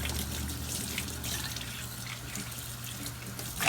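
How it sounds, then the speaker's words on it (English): Water runs steadily from a faucet as a blender lid is rinsed under the stream in a kitchen sink after making a strawberry banana smoothie. The splashing is continuous and moderately close, with no talking. "Here's the lid, rinse it a few times."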